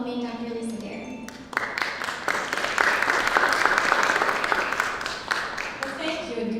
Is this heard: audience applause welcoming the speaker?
yes